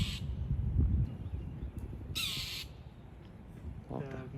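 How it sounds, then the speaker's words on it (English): A mockingbird, agitated by a nearby hawk, gives harsh, raspy squawking calls at a Disney resort, a few scattered bursts at moderate distance over low outdoor background rumble. "I'm assuming that's a mockingbird, is very unhappy about the presence of the hawk."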